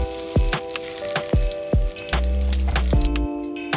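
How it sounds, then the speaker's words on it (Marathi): Eggplant pieces frying in oil in a pan, a loud continuous sizzle broken by several sharp knocks and scrapes of a utensil against the pan. "तेलामध्ये असे व्यवस्थित भाजून घ्यायचे आहेत."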